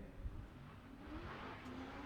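Matt Field's supercharged Corvette drift car with Borla exhaust and Falcon tires, heard at a distance as a steady, throaty engine drone with slight rises in pitch during a Formula Drift qualifying run at Monroe.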